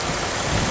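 A car engine idles steadily and quietly, a smooth low hum with no revving, close and unchanging.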